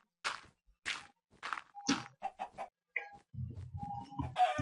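A chicken clucks close by in a series of short, separated calls, several rising into squawks, with rustling and low farmyard noise near the end.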